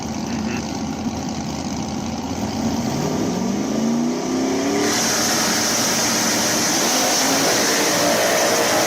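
Big block nitrous drag racing cars roar through a Limited Street final, a steady loud engine drone with a rising rev sweep midway and a brighter, harsher tone in the last half.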